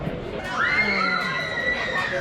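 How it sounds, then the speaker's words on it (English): Screams and shrieks from people riding a tall spiral slide tube at a treetop park in Ireland, a sustained rising wail over crowd noise lasting about two seconds. "you can hear the screams"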